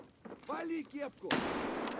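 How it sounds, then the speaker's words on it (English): A flashbang grenade bursts in Escape from Tarkov, a sudden loud blast after a voice shouts, followed by a sustained hissing ringing that lingers to the end. "I wasted my flashbang"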